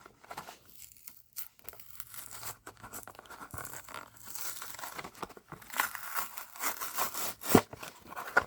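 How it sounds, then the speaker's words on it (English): Cardboard and plastic packaging of a Matchbox Ford Fiesta toy car box being torn and crinkled open in irregular rips and crackles, close up, with no voices. "let's just rip into this"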